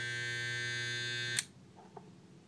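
Andis Master hair clipper buzzing steadily with a strong harmonic hum, then abruptly switched off around the midpoint, leaving near-quiet room noise and a faint click.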